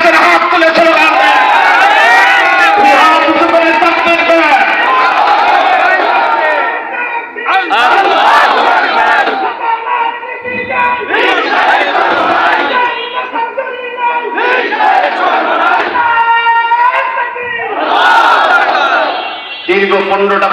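At a 2024 Islami Andolan Bangladesh mass rally in Dinajpur, a crowd chants slogans loudly in repeated bursts, a leader's amplified voice calling out lines and the mass answering in roaring unison.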